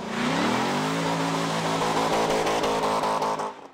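Sports cars racing at Waldron Field in a South Texas Sports Car Club of America event, engines loud and close with a sustained roar and shifting pitch as they rev and pass, no talk over it.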